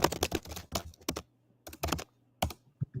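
Computer keyboard typing picked up during a video call, close-miked, with irregular bursts of quick key clacks separated by short pauses, no talking over it.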